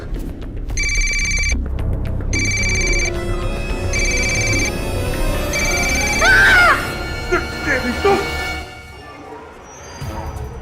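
A telephone rings unanswered in a house, repeated bright trilling rings in a steady on-off rhythm, followed by a voice speaking over a music bed with other background sound.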